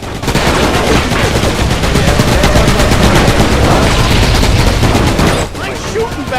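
Sustained rapid gunfire from the PS2 vehicular combat game RoadKill, loud and continuous for over five seconds with dense bursting shots, dropping off abruptly near the end.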